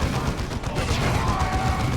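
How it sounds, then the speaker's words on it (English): Squads trading gunfire in the video game Warhammer 40,000: Dawn of War II, a dense, continuous clatter of shots and impacts over two seconds with no voices. "They're shooting, they're shooting."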